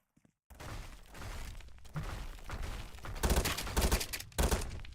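Explosions and blasts from a bomb in a Roblox video game, a dense run of loud booming bursts that swell and strike repeatedly toward the end.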